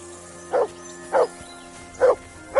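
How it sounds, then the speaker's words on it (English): A dog in the video game Kingdom Come Deliverance 2 barks four times at a steady rhythm, sharp and fairly close, over a low humming game ambience. "Henry! Call off that damn Mutt!"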